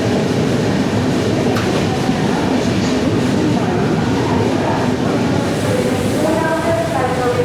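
Venad Express train rolling into Thrissur station, a steady loud rumble of carriages on the rails with faint clatter, and high wheel squeals rising toward the end.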